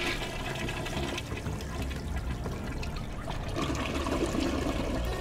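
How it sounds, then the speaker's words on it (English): A toilet flush rushes steadily for several seconds, a continuous broadband wash of water that is distant and fairly faint, with no speech. "From afar, I listened as the sound of a toilet being flushed was heard."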